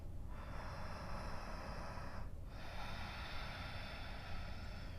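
Deep, steady breathing held in a downward dog yoga pose, a continuous airy rush close to the mic with a brief dip midway, no talking.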